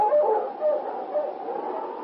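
A husky sled dog team howls and whines together in a steady, overlapping chorus, mid-distance and continuous, with rising and falling yelps woven through the sustained howling.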